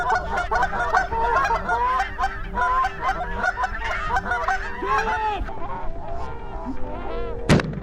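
A big flock of Canada geese honks continuously during a goose hunt, dense overlapping calls close and loud, with a sharp crack near the end.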